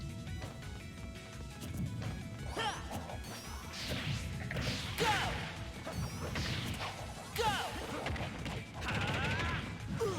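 Sonic's homing attack in a Smash Bros video game: repeated rising swooshes and crashing hits recurring every second or two over dense game music and effects.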